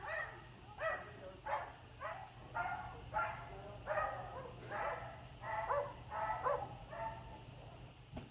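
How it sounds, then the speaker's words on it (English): A neighbor's dog barks about ten times in a steady run of sharp, mid-distance barks over a constant low hum, with no talking. "My neighbor's dog is flipping out right now."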